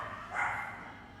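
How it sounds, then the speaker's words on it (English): A dog barks once during an indoor podcast conversation, a short moderately loud yelp rising over low room noise, then fading back to quiet. "I think the bankers have sent a dog for me."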